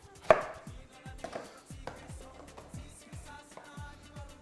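A knife chops through food on a cutting board in a series of crisp, close knocks, one sharp louder cut followed by a steady run of lighter strikes, heard alone without talk.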